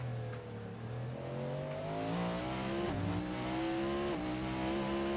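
Race car engine in a racing video game at Sebring, steady loud rising whine with shifting harmonics through a wheel lockup, no clear tire squeal standing out.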